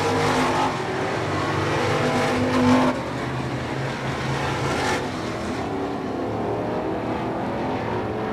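Stock race cars roaring around Hudson Speedway at a 1989 weekly race, a steady loud engine drone from several cars with a louder pass near the start, no talk.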